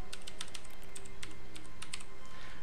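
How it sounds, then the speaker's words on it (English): Keys clatter in quick irregular bursts on a computer keyboard inside The Stanley Parable, steady and close over a soft constant background hum. "you can type the word face punch into the keyboard"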